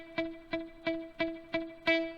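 A palm-muted low E string on an electric guitar is picked six times in a steady rhythm, each note a short chunky thump that still carries pitch before quickly dying away, with no other sound.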